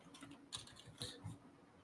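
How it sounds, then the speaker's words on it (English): A few faint, scattered clicks of typing on a computer keyboard, with just a couple of distinct keystrokes over a quiet room background. "I was typing something in one of our channels"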